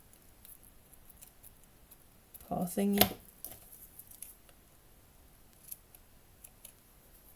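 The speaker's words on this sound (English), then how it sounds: "using my paper scissor that I shouldn't use for this one" Paper scissors cut out a small paper paw shape for a miniature cat cafe room box, giving a quick, close burst of snipping midway through an otherwise quiet scene with a soft voice.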